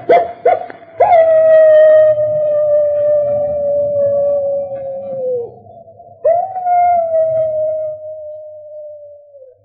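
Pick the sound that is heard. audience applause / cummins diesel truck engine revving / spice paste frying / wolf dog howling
wolf dog howling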